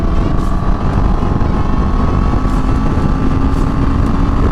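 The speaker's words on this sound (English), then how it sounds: "I'm going to do a quick pull from 70 miles an hour to 90 miles an hour without dropping a gear." A CF Moto motorcycle pulls hard from 70 to 90 mph without a downshift, its engine drone steady and loud under heavy wind rush across the whole stretch.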